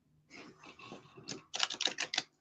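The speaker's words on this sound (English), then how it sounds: "So, I'm shuffling as we're chatting." A deck of cards is shuffled by hand close up, with a soft riffling flutter first and then a sharper, louder run of quick rhythmic card slaps.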